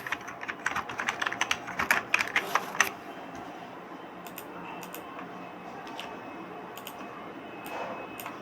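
Rapid keystrokes on a computer keyboard entering text in a video editing program, a dense clattering burst for about three seconds that then gives way to a few isolated clicks over a quiet hum.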